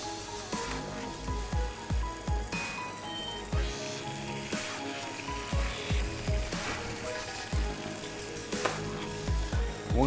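Butter for Le Bourzguen Keffois sizzles and crackles steadily in a pan set directly on the fire, with a dense, continuous frying hiss broken by brief stirring knocks and no voices.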